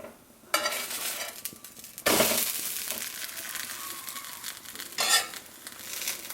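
Garbanzo bean paratha with chayote squash filling flipped and toasting on a pan, bursts of sizzling hiss in several surges, with quieter stretches and light scraping between them.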